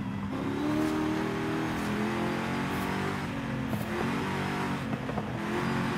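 A car in Forza Horizon 5 accelerates hard and understeers through a corner, its engine revving and whining steadily loud, with faint tire squeal mixed in.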